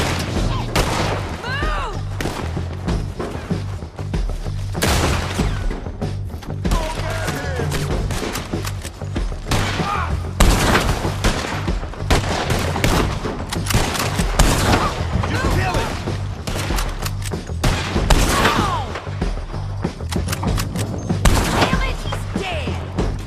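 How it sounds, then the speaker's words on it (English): Gunfire in Red Dead Redemption 2 from a distant shootout, a dense run of sharp shots and bursts over steady low game music and ambience, continuing throughout at moderate loudness. "I think that's Sadie shooting in the distance"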